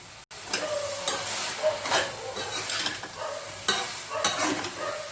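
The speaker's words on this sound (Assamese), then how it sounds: "এতিয়া এইখিনি মই অকণমান লৰাই দিম ভালকৈ" A spoon stirring potato, cauliflower and pea sabji with magic masala in a frying pan, scraping strokes repeating over a steady sizzle, close and moderately loud with no talk.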